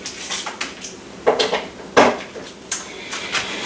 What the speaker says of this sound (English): Go ahead and put the lid on.